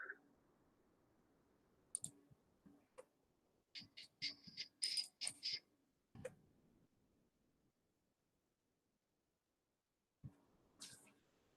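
Sharp, quiet computer mouse clicks, some single and some in quick bursts, scattered across a near-silent background with long gaps between them.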